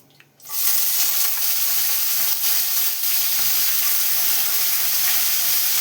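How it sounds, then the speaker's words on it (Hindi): Vegetables hit hot oil for a khichdi tadka: a short quiet moment, then a sudden loud sizzle that holds steady and close with faint stirring, no talk. "हमने तेल डाल दिया। अब एक एक जो है हमने सारे सब्जी डालने हैं"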